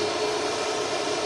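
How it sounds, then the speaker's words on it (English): An Aer Lingus A380 taking off at Manchester Airport gives a steady, loud broadband jet roar that holds constant without breaks. "Now we've got the Aer Lingus A380 going up."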